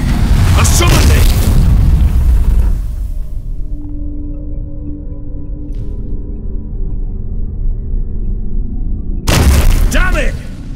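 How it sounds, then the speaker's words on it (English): Fire bursting into flames in The Witcher 3 video game, a loud roaring whoosh that opens the clip and returns near the end, with a low rumbling crackle sustained in between under shouted voices. "The flames! Douse the flames!"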